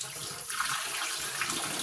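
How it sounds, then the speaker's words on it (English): Water runs steadily in a kitchen sink as rinse water is drained off freshly washed vegetables, a continuous close splashing rush with no talk. "I'm going to drain this water off because I already washed them one time"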